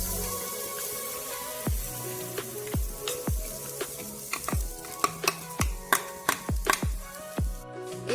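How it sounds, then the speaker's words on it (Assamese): Grated coconut fries in a kadai, a low sizzle running throughout under a series of sharp spoon or spatula scrapes and taps against the pan, coming faster and louder toward the end. "আকৌ সেইটো কেৰাহীতে নাৰিকলখিনিও ভাজি ল'ম।"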